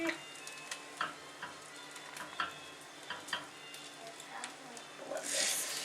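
French toast frying in a pan gives off a steady, moderately quiet sizzle dotted with small crackling pops and ticks that grows busier toward the end.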